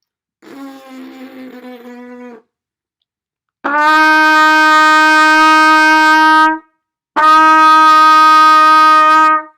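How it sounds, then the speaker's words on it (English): A single sustained trumpet F note sounds three times, first soft and short, then two long, loud, bright blasts separated by brief silences. "That's what an F sounds like."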